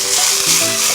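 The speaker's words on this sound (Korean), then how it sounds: "콩나물은 센 불에서 볶는 거죠, 지금?" Blanched bean sprouts with a pinch of salt stir-fry in a pan over high heat, giving a steady, loud sizzle with no talking.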